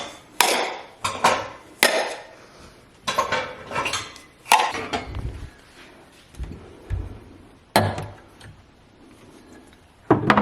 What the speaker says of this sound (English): I need to put these clean dishes away